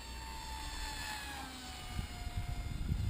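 A small Racerstar electric motor drives an Eachine Micro Skyhunter RC plane at under half throttle, a steady high whine that drifts down in pitch as it passes, with outdoor wind noise and faint bumps underneath.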